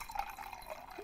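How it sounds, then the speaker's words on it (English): White wine pours over ice cubes in a glass, giving a faint, brief trickle with light drips and clinks in a quiet setting. "White wine hitting ice cubes."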